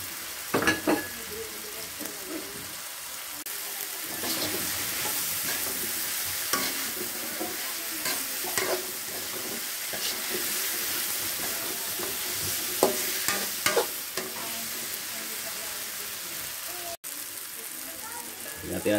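Fried chicken being stir-fried in a pan seasoned with pepper and MSG: a continuous loud sizzle with scraping, clattering stirs recurring throughout, heard without talk.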